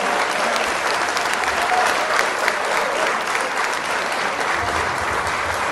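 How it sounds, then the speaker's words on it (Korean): An audience at a song festival for people with disabilities claps to welcome a guest singer to the stage, with dense, even applause throughout. "여러분 큰 박수 부탁드립니다."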